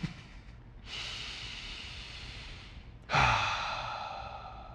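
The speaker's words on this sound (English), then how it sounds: "Take a few breaths." Two long, deep breaths drawn in and slowly let out during a yoga session, close and fairly loud, the second breath stronger and sharper at onset, with no talking.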